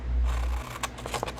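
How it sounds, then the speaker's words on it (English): Scissors snipping a paper bag: a low thump, then a few quick crisp cuts spaced unevenly, close and fairly quiet. "just cut a little bit off the bottom here"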